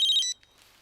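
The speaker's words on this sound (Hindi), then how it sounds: "ये तो फ्रेडिक्स का फोन है" A telephone rings in a TV crime-drama scene: a short, bright electronic ringtone warbling for about a third of a second, then cutting off, leaving a faint quiet room.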